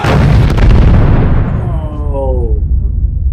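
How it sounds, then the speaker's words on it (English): A deep, rumbling explosion in the film Interstellar booms loudly and then rolls on with a long, heavy roar and debris-like crackle, dense and close. "there's been an explosion"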